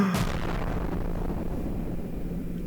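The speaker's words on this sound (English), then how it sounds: "I'm going to put a explosion sound effect in." An explosion sound effect bursts loudly at the start, then fades into a long, steady low rumble with no speech.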